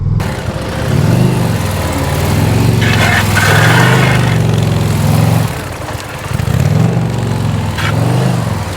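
The engine of a 2023 Indian Pursuit touring motorcycle runs loud and close during low-speed riding drills, a steady rumbling drone that swells and eases as the throttle shifts, with no talking.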